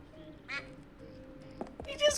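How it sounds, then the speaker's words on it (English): A duck in Escape from Monkey Island gives a few short, nasal quacks spaced apart over a quiet background, the last one the loudest. "He just quacks."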